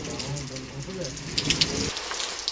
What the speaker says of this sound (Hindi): चकराता में देर शाम से बारिश शुरू हो गई है